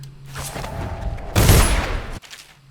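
A pistol fires in the stealth video game Dishonored, a dull boom with a burst of noisy crackle and ringing tail that cuts off abruptly, loud and close.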